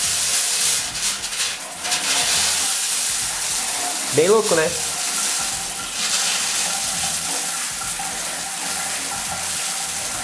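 Shower water sputtering and spraying as trapped air pushes through the cold water pipe, with a steady rush of flow and a brief gurgling burst partway through; a person speaks briefly over it.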